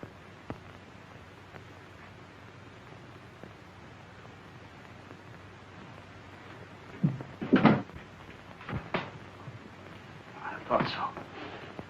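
A door opens indoors, with a few short knocks and rattles of the latch and wood, then a softer shuffling sound, heard fairly close in a quiet room.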